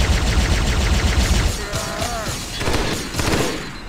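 A Shredder weapon fires in Halo SPV3 as a loud dense burst of rapid shots, then breaks into scattered booming impacts and mechanical clatter, close and with no talking.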